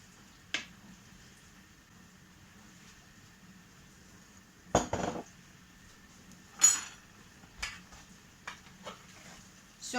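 Spoon scrapes and clinks in a pot of pickle soup (rassolnik) of fresh cucumbers with vinegar, a few sharp knocks and scrapes spaced over quiet gaps.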